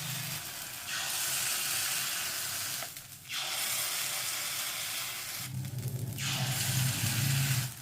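Chitoi pitha rice-flour batter sizzles and hisses loudly in a hot pan over high flame, steady frying noise with two brief dips as spoonfuls are added, no talking.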